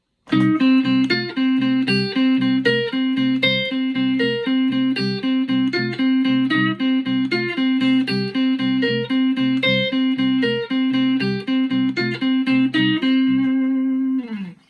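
Electric guitar plays a tremolo-picked blues lick over a static C blues backing, rapid even picked notes repeating steadily and loudly for the whole stretch, ending on a held ringing note, with no talking.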